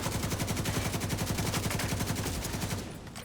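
Rapid bursts of gunfire crack in a fast regular rhythm, loud and close, in the shooter game The Division 2, then cut off abruptly into quiet.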